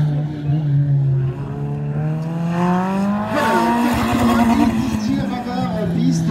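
Race car on a slalom track at the Ancenis auto slalom: a loud, close engine revving up and down through the gears with rising and falling pitch, sustained throughout and audible under speech.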